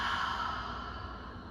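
An open-mouthed exhale during a guided yoga breathing exercise, a steady breathy rush that holds for the whole stretch and fades slightly toward the end, close and alone.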